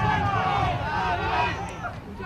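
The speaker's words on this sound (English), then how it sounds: "you can just sense the crowd getting a bit louder" Crowd noise swells at a country rugby league colts match, a dense murmur of many voices and cheers under ongoing commentary.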